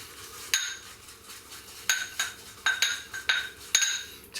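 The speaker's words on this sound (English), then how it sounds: "It's a clangy little bowl." A shaving brush clangs and clinks against a small, ringing shaving bowl, about seven sharp metallic taps at uneven intervals, close and alone.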